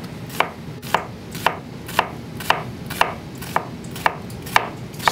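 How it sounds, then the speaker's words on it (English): Kitchen knife slicing through an onion, pulled back toward the cook with the root end left intact, giving about ten crisp, evenly spaced cuts against a board, close and clear with no talking. "I'm going to slice the onion by pulling the knife towards me"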